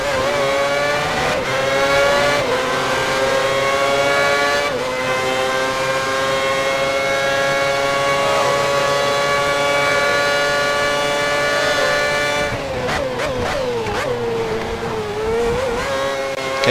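Formula 1 car engine from the F1 2010 racing game at Montreal, a loud continuous high-pitched whine held steady, with gear-shift dips and a sharp rev change near the end.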